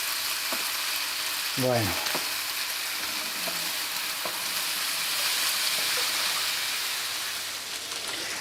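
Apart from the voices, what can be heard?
zucchini and vegetables frying in a pan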